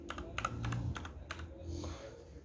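Soft keys pressed on a backlit lightning keyboard, a handful of quick muted clicks in an irregular burst, close and fairly quiet against a low room hum.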